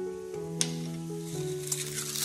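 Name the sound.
cumin seeds sizzling in hot coconut oil in an Instant Pot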